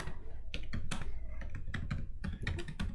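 Close, quiet typing on a computer keyboard, with irregular bursts of key clicks that pause briefly between them.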